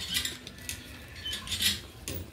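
Utensil scraping and clinking against a pot while stirring food, a few light metallic taps and scrapes at close range with faint low background noise.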